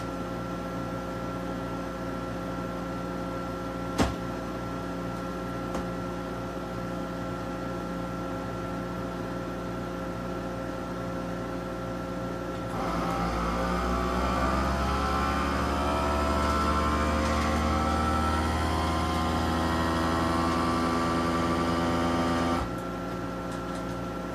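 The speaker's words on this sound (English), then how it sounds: "And now I'm going to reseal, vacuum seal this again." A vacuum sealer draws air out of a bag of freeze-dried baked beans or chili, a steady motor hum that rises into a louder whirring for about ten seconds and then stops abruptly, with a faint click earlier.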